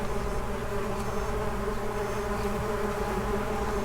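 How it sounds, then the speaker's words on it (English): Steady insect buzzing, continuous and close, with a constant droning hum and no talking. "Can you identify an insect by the buzz?"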